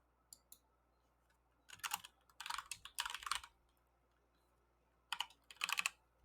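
Bursts of typing on a computer keyboard, clustered keystroke clicks arriving in several short runs separated by quiet pauses, close and fairly loud with no talking.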